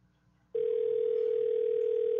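An outgoing phone call produces a steady, unbroken telephone tone that starts abruptly after a quiet half second and holds at an even, moderate level.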